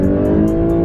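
Hybrid engine of a 2018 Lexus LS500h with a CVT, a loud close steady drone of revving under acceleration, smooth and unbroken for under a second.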